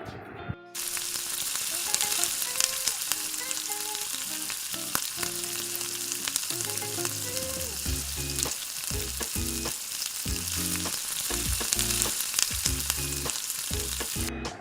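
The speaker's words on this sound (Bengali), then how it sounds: "এরপর দিয়ে দিচ্ছি ছোট ছোট কুচি করে রাখা পেঁয়াজ।" Finely chopped onions frying in a pan for a dahi chicken dish, a steady hissing sizzle running throughout beneath prominent background music.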